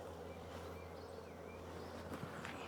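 Bees buzz steadily inside a hive box, a close, continuous low hum with no talk over it.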